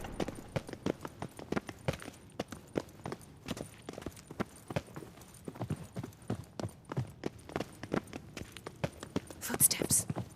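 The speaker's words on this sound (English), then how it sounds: "Footsteps." Footsteps in The Witcher 3: Wild Hunt, a long run of steady, close, crisp thudding steps in an even rhythm that continues throughout, with faint voices in the background.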